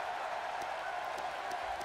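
Crowd noise from a wrestling arena in the WWE 2K18 video game, a dense continuous roar of cheering and applause with faint scattered claps, steady and fairly loud throughout.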